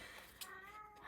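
A pet cat named Lucy lets out a single drawn-out, wavering meow indoors, fairly quiet and a little distant, with no one speaking.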